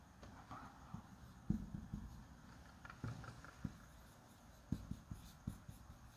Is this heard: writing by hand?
yes